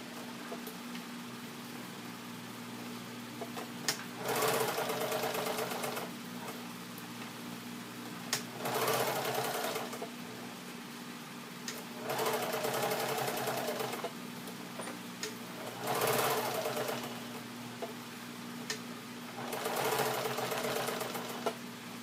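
A sewing machine stitching fabric for an art journal, running in five bursts of a few seconds each, a buzzing mechanical whir separated by short quiet pauses, with a low steady hum underneath.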